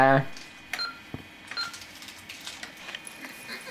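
Telephone being dialed at home, a short burst of keypad tones at the start followed by scattered clicks and handling noises, with voices talking nearby.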